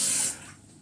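Water is poured into a tagine for a Moroccan tanjia with vegetables, a short close splash that lasts a fraction of a second, then drops off to a soft trickle.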